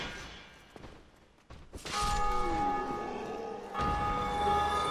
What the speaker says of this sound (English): Somebody ring the bell.